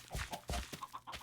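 Chickens cluck in a short run of quick clucks and calls in the Minecraft video game, faint and spread unevenly, with no talking.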